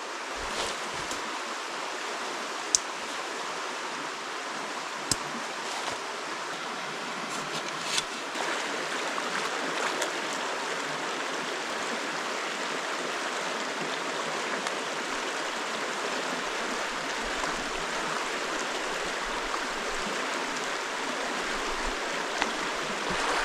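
A clear, low river near a hillside base camp rushes steadily and alone, a constant broad wash of flowing water with a few small splashes and knocks, close and even throughout.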